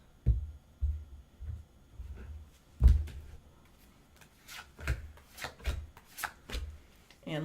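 A deck of tarot cards being cut and shuffled by hand, a series of close, crisp riffling and slapping bursts at irregular intervals, with quiet pauses between them and no talking.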